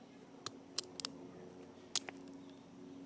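A knife cuts the tip of a feather quill with a few sharp, quiet snips and clicks spread over three seconds against a steady low hum.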